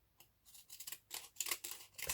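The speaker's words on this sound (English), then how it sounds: "what about if we use the pinking shears?" Pinking shears cutting paper in a series of quick, crisp snips, close and fairly quiet, the cuts coming faster and louder toward the end with no talking.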